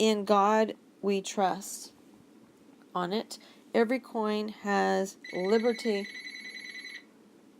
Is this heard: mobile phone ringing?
yes